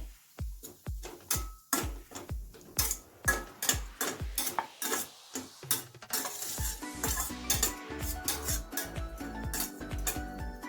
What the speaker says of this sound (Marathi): त्याच तुपामध्ये आपण हे खोबरं भाजून घ्यायचे आहे